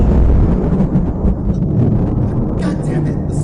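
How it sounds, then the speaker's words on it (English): Heavy thunderstorm rumble with rain and wind in a Minecraft horror game, a loud, continuous low roar filling the scene, with faint higher crackles near the end. "God damn it, the storm."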